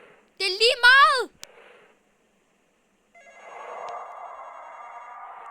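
A telephone ringtone sounds in a short warbling burst, then after a pause a fainter, steadier electronic ringing continues in the background of a horror game session.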